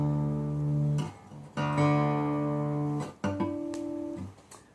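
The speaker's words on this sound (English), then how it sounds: "So you take your low E string, tune it down to D." A guitar's low E string is plucked several times and retuned down to D, with clear ringing notes that decay between plucks and a final tone held at the new pitch.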